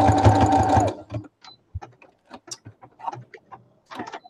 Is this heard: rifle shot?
no